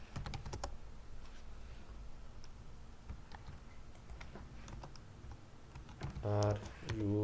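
Fingers type on a computer keyboard in quick bursts of close, crisp key clicks with short pauses, and a voice comes in near the end.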